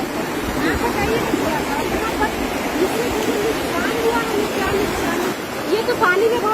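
Fast, forceful floodwater from a river that has changed course rushes and churns over a flooded village road, a constant loud roar with voices talking over it.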